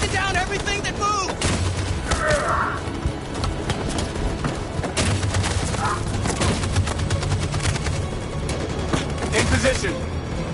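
Machine gun fire in a PS4 war game, rapid crackling bursts mixed with explosions and battle chaos, loud throughout as voices shout over the combat.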